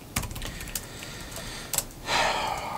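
A few scattered keystrokes on an old 16-year-old laptop keyboard as a command is typed, with a brief louder rustle toward the end.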